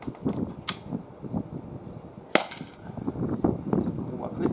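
An Umarex HDR 50 air pistol fires at a tin at 12.5 meters, two sharp cracks about a second and a half apart over steady background noise and faint murmuring.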